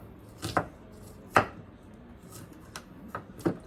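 A knife chops through half an onion on a cutting board in a home kitchen, a few separate sharp cuts spaced out over several seconds, close and fairly quiet.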